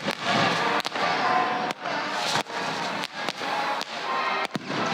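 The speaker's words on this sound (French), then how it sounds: "qui dit clôture grandiose dit évidemment feu d'artifice. Il a été tiré vers 18h45 et était de toute beauté" Fireworks burst at an evening celebration marking the year 2000 in Malmedy, a string of sharp booming cracks over a loud continuous crackle and rumble, heard from a moderate distance.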